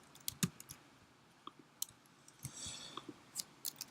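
Sparse keystrokes on a computer keyboard, a handful of separate clicks and short bursts spread irregularly, crisp and close over a quiet background.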